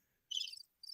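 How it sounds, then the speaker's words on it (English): Crickets chirp in two short bursts of bright, high trilling separated by a brief silent gap, standing alone as a comic awkward-silence cue with no one talking. "The crickets."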